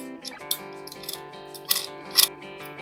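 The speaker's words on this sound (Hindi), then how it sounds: "तो अब हम अपना नट बोल्ट यहाँ पे फिक्स कर देंगे।" Metal clicks and scrapes of a nut being threaded onto a bolt during assembly of a Luusa RX-500 tricycle, a few sharp close ticks over a steady tonal hum, no talking.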